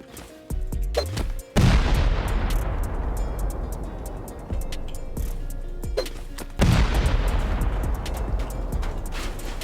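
C4 charges blasting a base in a survival video game raid: two heavy close explosions, each a sharp boom followed by a long rumbling, crackling decay, with smaller thuds between, no talk.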